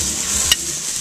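Marinated flank steak sizzles on a grill over high heat, a steady hiss of searing meat running unbroken, with one brief sharp pop or crackle partway through.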